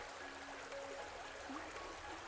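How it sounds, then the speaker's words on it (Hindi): River water flows steadily beside a riverbank where clothes are being washed, a continuous soft trickling wash that stays even throughout with no talk. "आज तू नदी किनारे बैठकर कपड़े धो रही है"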